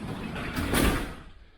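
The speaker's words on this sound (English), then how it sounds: "close the door" A door swings shut with a muffled whoosh that swells into a soft thud and then fades, heard against a steady background rumble.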